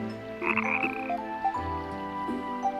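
Frog croaking in the video game Ys IV: Memories of Celceta, a loud, steady run of throaty croaks layered over game music, with no talking.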